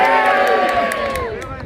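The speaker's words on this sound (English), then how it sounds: "So if you want Burnsy to win, shout now." Live outdoor audience shouting together to vote for a favourite on a Stirling heritage walk, a loud sustained crowd roar with whoops that tapers slightly toward the end.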